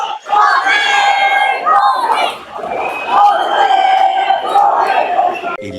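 Huge stadium crowd at an RCB vs CSK cricket match roaring and chanting after Dhoni hits the ball into the stand, a loud, sustained wall of cheering and shouting voices.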